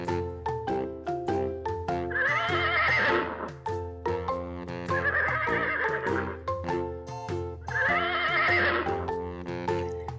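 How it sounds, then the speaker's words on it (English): Repeated horse whinnies, three loud drawn-out calls spaced a few seconds apart, over a steady pulsing musical backing. "And the next animal is horse."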